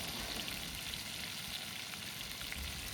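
Pomfret fish frying in a pan over a gas flame, a steady close sizzle and crackle of hot oil running throughout with no talking.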